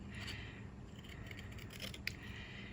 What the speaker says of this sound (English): next I've got my paper snips, and we're going to cut around this Mossy Meadow holly bit out here on the end